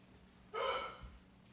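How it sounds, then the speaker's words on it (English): A single short hiccup from a person, a soft, abrupt breathy catch that is close but quiet against a faint background. "Brendan got hiccups"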